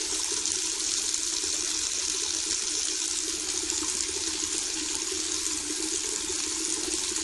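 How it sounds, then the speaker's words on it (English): Water pouring steadily into a container while making lavender lemon mead, a continuous close gushing rush that holds level throughout, with no voices. "We are going to now start adding in the rest of our water here."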